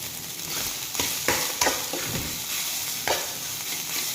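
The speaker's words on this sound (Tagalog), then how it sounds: "Ganyan ako kung magluto ng sinangag eh" Sinangag, Filipino garlic fried rice seasoned with a little soy sauce, sizzles loudly in a pan for breakfast, with repeated scraping strokes of a spatula tossing the rice close up and no talking.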